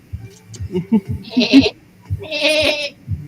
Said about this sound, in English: Watch out for that goat!